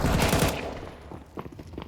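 Rapid bursts of gunfire ring out during a competitive Counter-Strike match, dense and loud at first, then thinning into scattered shots and impacts.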